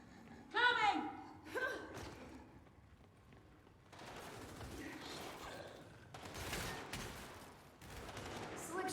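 Weapons fire in a Gears 5 Horde match comes as sustained bursts of rattling gunfire in the later part. Voices and exclamations are heard around and over the shooting.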